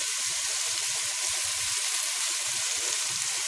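Leeks sautéing in a pan for lobster bisque make an even, dense hiss of sizzling that runs unbroken and fairly loud from start to finish, with no voices.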